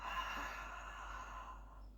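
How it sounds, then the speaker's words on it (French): A long, soft exhale through the mouth during a Pilates exercise, a breathy hiss that starts strong and fades out over about two seconds, quiet and close. "Et soufflez encore."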